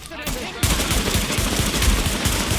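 Sustained automatic gunfire in the video game The Division, a dense, loud rattle of rapid shots that bursts in after a brief quieter lead-in and keeps hammering without pause.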